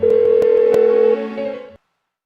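A telephone rings out unanswered in the video game Persona 4 Golden, a steady electronic tone held for just over a second, then shifting pitch before it cuts off abruptly.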